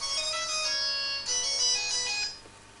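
A mobile phone ringtone plays a bright, busy melody of high tones, fairly loud and alone, then cuts off near the end.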